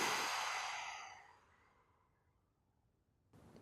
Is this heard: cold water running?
no